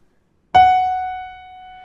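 One piano key, F sharp, struck cleanly, its tone sustaining and fading gradually, heard up close with nothing else around it.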